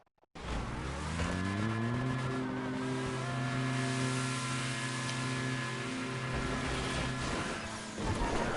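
A Stunt Racing car revs hard, its engine note climbing in stepped gear pulls after bursting out of a tube, then a thump as it drops to the floor and settles on its wheels.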